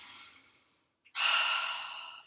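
Close, deep yoga breathing in tree pose: a long soft exhale tapers into a brief pause, then a strong breath of air is drawn in.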